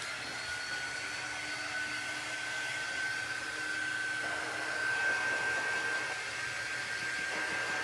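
A hair dryer blows steadily on an Easter candy jar craft, a constant loud whooshing whine with a slight rise in airflow midway, no talking.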